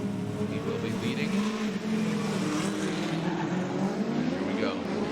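A Formula Drift pro car on Nexen tires is thrown sideways into a corner at massive angle, its engine roaring with sustained tire squeal, close and loud, under excited commentary.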